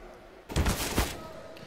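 A burst of rifle fire from the video game Counter-Strike during a pro match between Navi and Big at the IEM Rio Major 2022, one loud crack-laden volley of about half a second that trails off under broadcast background sound.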